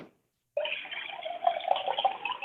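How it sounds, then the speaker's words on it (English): Water is poured in a steady, close stream that starts abruptly after a moment of silence and runs on with a bright splashing trickle, alone without talk. "Somebody's pouring water."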